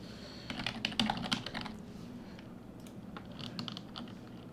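Keys on a computer keyboard clatter in a quick cluster of taps, then grow fainter and sparser, soft close clicks over a quiet room hum.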